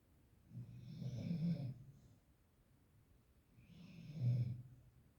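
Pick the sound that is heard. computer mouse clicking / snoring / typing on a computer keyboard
snoring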